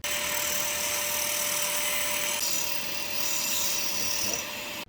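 A flex-shaft dental float hums steadily with a continuous whine as it grinds and evens a therapy donkey's incisors, a close, constant rasp running without pause and without talk.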